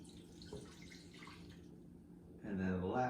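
A cup of water being poured into a bowl of playdough mixture, a soft continuous trickle and splash that swells louder near the end, under a speaking voice.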